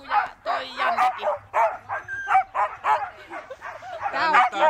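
Excited husky sled dogs bark, yip and whine in a busy overlapping chorus, close and loud, with a person's voice mixed in.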